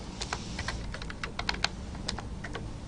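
C++ code is typed on a computer keyboard as a steady run of close, crisp keystrokes with slightly uneven rhythm and a couple of sharper key hits.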